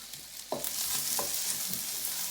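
Onions and peppers sizzle steadily in a frying pan, a constant close hiss broken by a few scraping stirs of a utensil.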